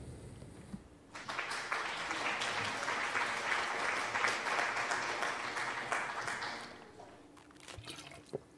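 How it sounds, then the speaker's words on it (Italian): Applause from an audience swells in after a second, a dense even clatter of many hands sustained for about six seconds before tapering off. "Vai, facciamogli un grande applauso,"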